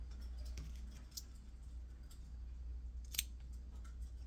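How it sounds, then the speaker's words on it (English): Scissors snip off loose yarn ends close to a glued knot on a crocheted dog sweater, a few quiet isolated clicks over a low steady hum. "And then you're going to cut your loose ends off down close to the knot."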